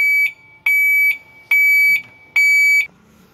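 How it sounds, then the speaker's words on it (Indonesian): Reversing alarm from a parking sensor fitted to a Mercedes-Benz truck, sounding four loud, steady electronic beeps at an even rhythm, each about half a second long, with no talk over them. "Ini arus mundurnya dalam posisi mundur, bunyi alarmnya"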